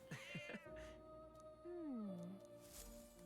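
A cat meows twice in the video game Metaphor: ReFantazio: a short mew near the start, then a longer, drawn-out, falling meow in the middle, set over soft game background music.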